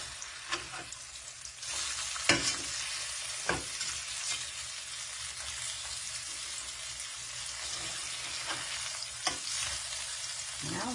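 Vegan hamburger steaks sizzle steadily in a hot frying pan, with a few sharp clacks and scrapes as the patties are flipped over, all close and without talk.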